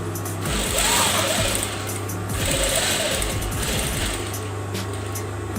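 Industrial sewing machine running in steady bursts while backstitching to lock the seam of a jacket pocket, a close whirring hum with short pauses between runs.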